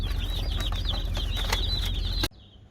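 Newly hatched chicks, Red Ranger and Cornish Cross types, peep rapidly and continuously inside a car on the short drive home over the low hum of the road, until the sound cuts off abruptly.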